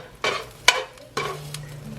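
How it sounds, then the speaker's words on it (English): Meat goes into a pan of hot vegetable oil, with three loud sizzling bursts as it is added and stirred, then a softer fry underneath. "we're gonna put our meat in here and start cooking it"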